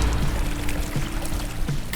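Flowing river water with a pouring, trickling wash throughout, steady and fairly loud, with small splashy accents, built as a sound effect for a VFX intro sequence.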